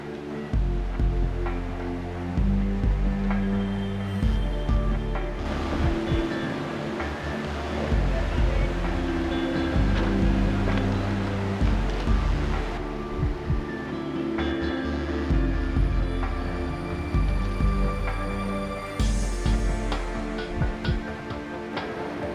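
Whitewater roars through Tombi Rapid on the Mgeni River during the Dusi Canoe Marathon, a constant loud rushing wash with music-like tonal layers over it and no clear voice.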